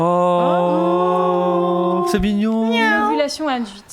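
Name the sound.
cat meowing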